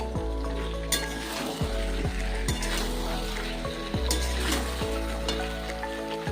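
Cauliflower and potatoes sautéing in a pan with whisked yogurt, a continuous close sizzle broken by repeated scraping strokes of a spoon stirring at a steady rhythm, with no talking.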